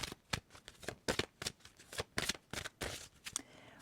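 Cards from a deck of past-life cards being handled and drawn: a close, quiet run of crisp, rhythmic flicks and riffles with no voice.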